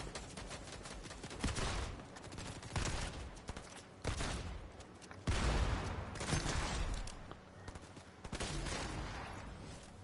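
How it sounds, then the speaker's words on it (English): Rapid bursts of gunfire crackle in repeated volleys, loud and dense, in dramatic waves with short gaps between them and no voices over them. "Where he shooting from?"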